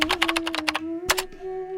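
Rapid clattering keystrokes on a computer keyboard, close and crisp, in quick bursts with a short pause, under a sustained low hum.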